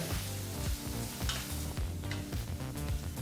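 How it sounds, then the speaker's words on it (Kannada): Green chillies and curry leaves frying in oil on a low flame for mango rice, a close, steady sizzle with repeated stirring scrapes and clatters of a spoon against the pan. "ಸ್ವಲ್ಪ ಕರಿಬೇವಿನ ಸೊಪ್ಪನ್ನು ಹಾಕಿ ಲೋ ಫ್ಲೇಮ್ನಲ್ಲೇ 2 ನಿಮಿಷಗಳ ಕಾಲ ಇವೆರಡೂ ಪದಾರ್ಥವನ್ನು ಫ್ರೈ ಮಾಡಿಕೊಂಡ್ರೆ ಸಾಕಾಗುತ್ತೆ"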